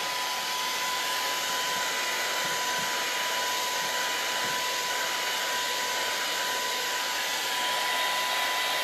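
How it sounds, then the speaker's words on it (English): A hair dryer blows continuously at close range, a loud steady rushing whoosh with a constant high motor whine, unbroken for the whole stretch with no talking. "I'm going to blow dry again"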